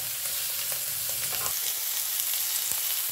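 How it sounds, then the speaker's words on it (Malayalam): Fish frying in coconut oil, a continuous close sizzle with scattered small pops and crackles throughout, no voices. "അങ്ങനെ വെളിച്ചെണ്ണയിൽ മീൻ വറക്കുന്നതാണിത്."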